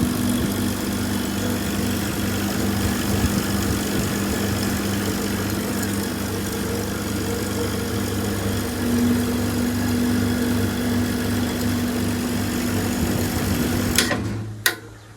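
An electric fan coil winding machine in a repair workshop runs with a steady motor hum and faint whirring for about fourteen seconds, then stops abruptly with a couple of clicks near the end.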